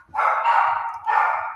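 A dog barks twice at the mailman indoors, two fairly close, sustained barks separated by a short pause.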